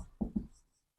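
Two quick marker strokes tap and scrape on a board during a kinematics lecture, close and sharp, then near silence.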